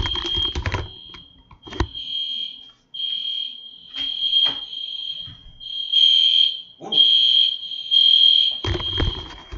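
A fire alarm sounds in repeated loud, piercing tonal bursts with short gaps, mixed with some clatter and keyboard-like tapping at the start and end.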